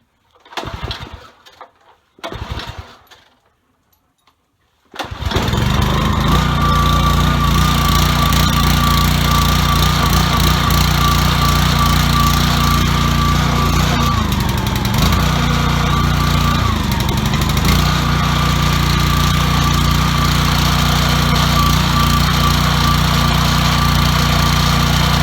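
A Ryobi RY80030 pressure washer's small engine is pulled a couple of times with short bursts of cranking, then fires and runs steadily and loudly, with a brief dip in revs partway through.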